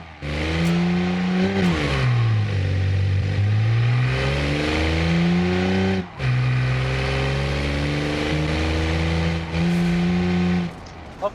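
A car engine in the driving game Automation revs hard and continuously, pitch sweeping down and back up through gear changes, with a brief cut near the middle, loud and close throughout.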